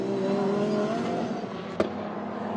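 A Ferrari GT race car roars along the Spa circuit in an FFSA GT 2013 race, a steady loud engine drone with a brief sharp crackle partway through.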